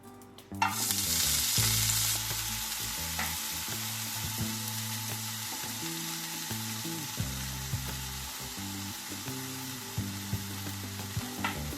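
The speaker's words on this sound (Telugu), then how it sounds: "పోపు తీసుకున్నాక కొత్తిమీర వేసేసుకుందామండి ఇందులోనే." Coriander leaves dropped into hot tempering in a pan burst into a loud sizzle that settles into a steady frying hiss, with occasional clinks and scrapes of stirring.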